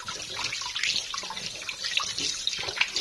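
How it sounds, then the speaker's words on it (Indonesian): Tap water runs steadily into a kitchen sink while food, beef for rendang, is rinsed under the flow, with a bright splashing hiss and small irregular splatters, no talking. "Pakai air mengalir."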